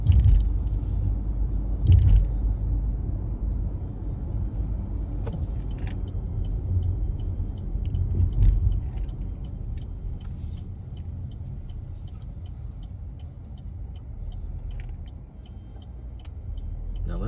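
Steady low road rumble from inside a car driving through a downtown area, with occasional clinks and jangling, a few brief louder swells, and no voices.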